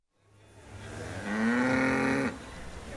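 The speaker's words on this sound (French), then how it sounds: "Les stars, ce sont bien sûr les vaches de nos montagnes" A mountain cow lets out one long, loud, close moo that rises and holds before cutting off, amid the murmur of a livestock show in La Roche-sur-Foron.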